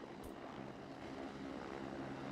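Helicopter rotor drone from the video game SOCOM Combined Assault, a steady whirring engine hum holding at an even level throughout with no talk over it.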